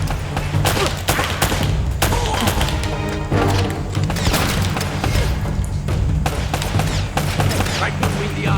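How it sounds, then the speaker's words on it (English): Shotgun blasts and other gunfire crack repeatedly in Uncharted: Drake's Fortune, loud sharp bursts layered over a dense game soundtrack of impacts and action noise. "Ooh, a shotgun."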